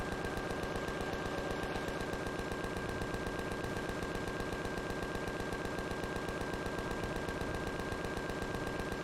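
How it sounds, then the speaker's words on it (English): Rapid continuous gunfire from shooting in the video game Empyrion Galactic Survival: a fast, even stream of shots with a steady tone beneath, fairly quiet, running unbroken throughout. "I'm just kind of just randomly shooting now."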